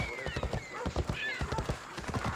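Horse hooves clip-clopping at a steady riding pace in Assassin's Creed Odyssey, close and fairly quiet, with a brief whinny and faint voices.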